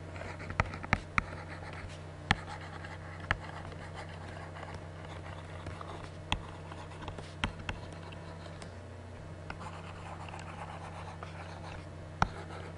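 Pen or pencil scratching on paper while working statistics review problems, a soft continuous scribble with scattered sharp taps over a steady low room hum, no speech.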